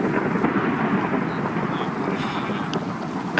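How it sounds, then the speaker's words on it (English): Thunder from lightning in Minecraft rumbles as a broad, steady roar that stays loud and close throughout, with no talk over it. "It is lightning, like, every 1 second."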